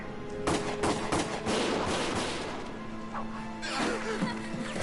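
Rapid bursts of gunfire in the video game Valkyria Chronicles crack over a dense, chaotic battle din, with shots and impacts piling up continuously throughout.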